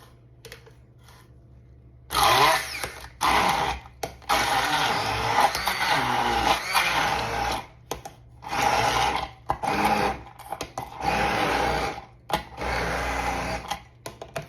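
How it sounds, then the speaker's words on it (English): Tomatoes being crushed for pizza sauce in a kitchen: a run of loud, whirring mechanical bursts, each lasting a second or two, separated by brief pauses after a quiet start. "let's start making the sauce by crushing the tomatoes"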